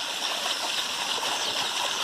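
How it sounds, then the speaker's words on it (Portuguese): Water pours steadily from a spout on a rural family farm, a continuous broadband rush and splash heard close by with no talking. "Olha a bica d'água ali"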